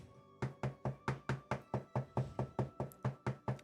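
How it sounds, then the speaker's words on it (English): A steady run of about thirteen evenly spaced knocks on a door, loud and close, each a sharp thud with a short decay, continuing without pause and with no one talking. "There's a knock on your door."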